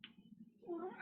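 A person mimics a cat during a tabletop role-playing game session, producing a brief, close meow-like vocal that rises and wavers over a low background murmur.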